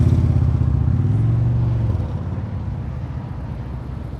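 A motorcycle idles and rolls at low speed during advanced slow-speed riding practice in North Carolina, a loud, steady low engine rumble that eases slightly after midway.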